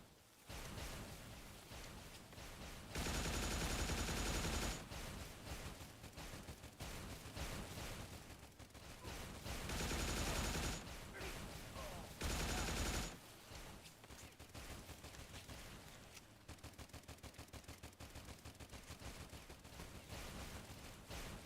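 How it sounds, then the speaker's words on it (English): Bursts of automatic gunfire rattle from zombie enemies in STALCRAFT, with several dense fusillades clustered throughout and scattered rapid shots between them, fairly loud with no voices. "Did you zombie fucks stop shooting at me?"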